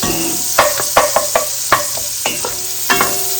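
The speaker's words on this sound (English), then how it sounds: "Once the onions are almost brown, I will add the garlic in there" Onions and garlic frying in a pot for loaded potato soup, with a steady close sizzle under repeated sharp clicks and scrapes of a spoon stirring against the pot.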